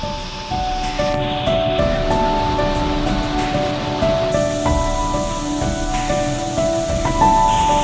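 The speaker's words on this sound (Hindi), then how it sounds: "मंदिर और ठीक बगल से गिरता यह झरना" A natural waterfall tumbles beside the Kedareshwar Mahadev temple in Sailana, Ratlam, producing a loud, continuous rushing roar up close, with faint sustained tonal notes drifting over the steady wash.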